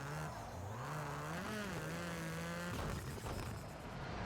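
Rallycross cars racing in Project Cars 2, a steady engine drone with rising and falling revs and gear shifts, a continuous layered mechanical hum playing alone without talk.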